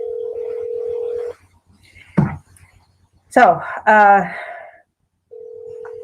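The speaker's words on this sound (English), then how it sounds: "And I am dialing Ellie right now." Cell phone line tone during a call, a steady electronic beep that holds, then drops out while a person speaks briefly, then returns at the end.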